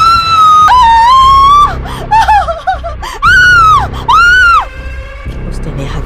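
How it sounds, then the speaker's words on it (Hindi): A loud, shrill scream rings out in a horror story, repeated in several long wavering shrieks with short gaps between them, close and intense, with some breathy gasping sounds between. "उसने अपना मुंह फाड़ा और जोर से चिल्लाया।"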